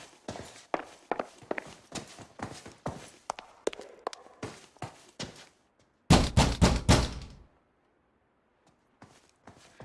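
In L.A. Noire, footsteps pace along an apartment hallway in a steady series of dull hard-soled thuds, then a quick burst of loud knocks hammers on an apartment door before everything falls nearly silent.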